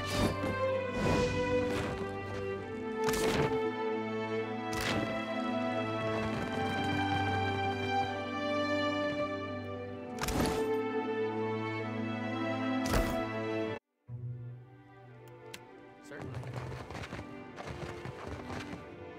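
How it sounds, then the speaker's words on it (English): Footsteps approach in the fantasy role-playing game Pillars of Eternity II: Deadfire, slow, heavy, evenly spaced thuds landing over sustained game music, with a brief drop to silence near the end. "We hear footsteps. Something approaches."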